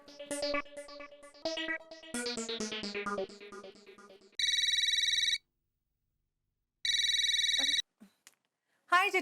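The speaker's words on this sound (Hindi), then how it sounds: "अरे बबीता जी, आपको कैसे पता चला मैंने फोन किया है?" Telephone ringing for an incoming call in an Indian sitcom, two long electronic ring bursts separated by a pause, preceded by melodic music, loud and close without talk over the rings.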